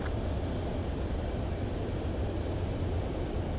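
An aircraft in a video game approaching a runway to land gives off a steady, dense engine roar that stays even and continuous throughout.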